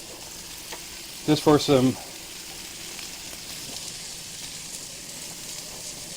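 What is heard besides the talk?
butter and diced vegetables sizzling in a pan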